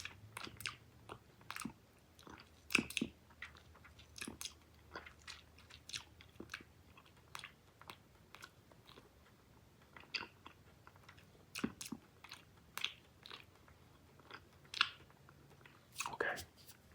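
Close, quiet chewing of Big League Chew shredded bubble gum coated in flour, with soft repeated wet smacks and crunches spread steadily across the span.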